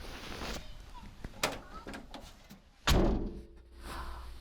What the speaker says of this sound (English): whenever you close the door